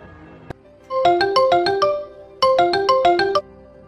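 A mobile phone ringtone for an incoming call plays loud and alone: two bursts of bright, rapid melodic notes, each about a second long, separated by a short gap, with a faint click just before.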